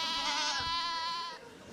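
Goats bleat loudly and close by in one long, wavering, quavering cry that fades out toward the end, with no talking over it.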